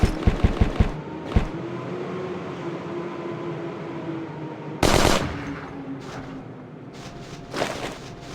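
Automatic gunfire in a video game comes in a rapid burst of sharp shots, then a lone shot, then another loud burst a few seconds later, over a steady low rumbling hum.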